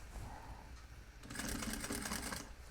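A sewing machine stitching the hem of a pair of jeans, with quiet handling at first and then a rapid, rhythmic mechanical clatter of the needle running close for the second half, no voices.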